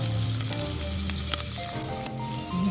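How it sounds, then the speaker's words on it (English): Diced deli ham caramelizing in a pan for white bean and ham soup, a steady dense sizzle and crackle of frying with occasional spatula scrapes, close and loud throughout, no voices. "I'm going to go ahead and let the diced ham caramelize a little bit and get some flavor"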